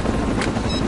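Helicopter rotor noise in Resident Evil 4, a steady low whirring drone with a loud, dense wash spread evenly across the brief moment, no voices present.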